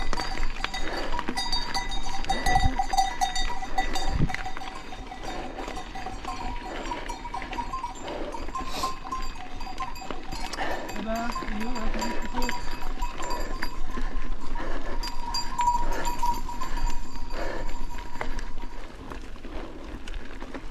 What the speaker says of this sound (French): Chèvre dangereux.